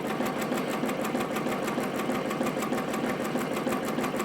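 Ricoma MT 1501 embroidery machine stitching a test design on a t-shirt: a steady, fast mechanical chatter of needle strokes with a constant motor hum, close and continuous throughout.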